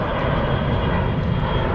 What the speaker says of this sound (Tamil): ஃப்ளைட் டேக் ஆஃப் ஆகுது பாருங்கள்